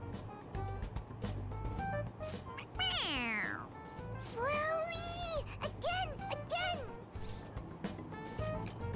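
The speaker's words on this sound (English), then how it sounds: "It meows when you press on its head." Inside the Persona 5 Royal video game, a stuffed toy cat lets out several drawn-out meows as it is pressed, heard over background game music with people talking.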